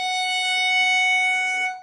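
A higher-octave F sharp bowed on a violin's E string with the first finger, a bright, steady sustained tone lasting under two seconds and fading at the end, heard alone.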